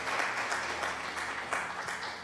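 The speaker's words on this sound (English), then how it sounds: "Let's do a little applause for you." A canned applause effect plays briefly on a live stream, a steady wash of many hands clapping at moderate volume for about two seconds.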